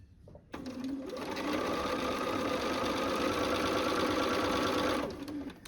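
A sewing machine runs steadily for about four seconds while stitching pieces of a glorified flower garden quilt, a close, even mechanical whir that spins up and then stops.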